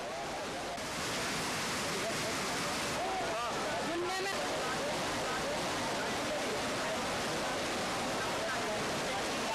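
Fast-flowing floodwater rushes in a steady, loud, roaring wash around a stranded jeep, continuous throughout, with a person speaking over it.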